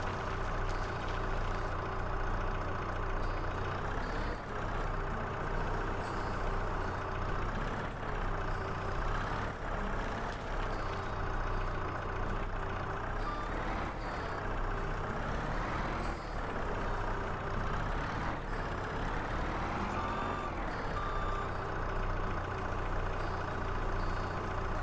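A skid steer's engine in Farming Simulator 22 drones steadily and loudly throughout, with a constant mechanical rumble and periodic rising-and-falling revs as it works to clear land, with no talking.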